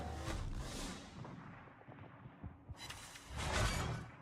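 Naval guns in the World of Warships video game fire, with two broad booming blasts and rushing whooshes, one at the start and one near the end, set apart by quieter rumbling thuds.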